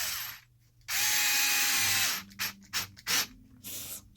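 Power driver spinning a shock mounting screw into a Traxxas Wide Maxx RC car, one sustained whirring run followed by several short bursts and clicks as the screw seats, close up.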